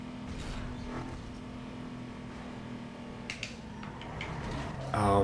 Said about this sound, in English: This Eclipse is fast.